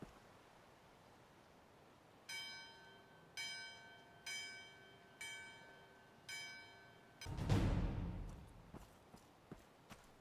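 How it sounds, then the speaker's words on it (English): A bell in the medieval game Gloria Victis rings five evenly spaced times with bright ringing tones, followed by a loud rustling thump and a few light taps, heard alone with no speech. "I need to ring the bell"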